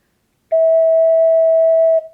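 A clear, steady E note on an ocarina rings out alone for about a second and a half, soft and flute-like, with no other sounds around it.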